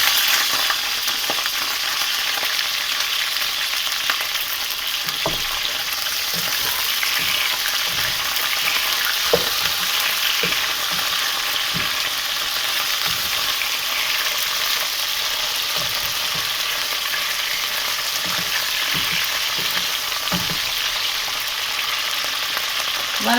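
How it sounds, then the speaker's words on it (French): Okra sizzles steadily in hot oil in a pan, a dense, continuous frying hiss with occasional pops and stirring clatters, close and loud throughout with no talk. "si vous ne grillez pas du gombo comme ça avec l'huile, ça va devenir gluant"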